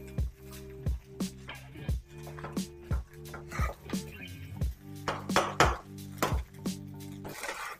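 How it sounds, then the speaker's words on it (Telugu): A spatula scraping and tossing rice in a metal cooking pan over high flame, a steady run of close, loud clanks and scrapes repeating about every half second. "రైస్ కొంచెం మంచిగా తిప్పుకోండి"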